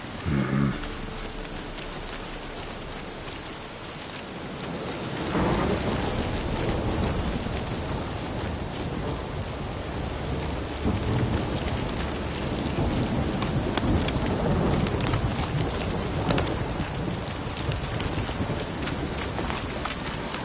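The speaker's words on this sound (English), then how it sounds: "Storm, damn it." Steady rain and rolling thunder in a Witcher 3 game storm, a dense wash of falling water that swells louder after the first few seconds and stays heavy, with deep rumbles underneath and no voices.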